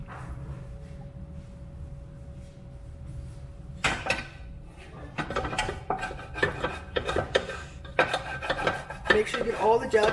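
Melted ballistics gelatin is scraped from the bottom of a metal pan, with rasping metal scrapes and clinks starting after a quiet hum, growing denser and louder in irregular bursts.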